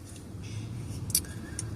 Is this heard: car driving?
yes